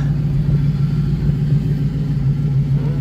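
A V8 hot rod engine idles and rumbles deeply while reversing, a loud, steady low burble close by with slight throttle swells and no talk over it.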